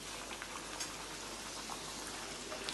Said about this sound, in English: Let's fry it in the oil.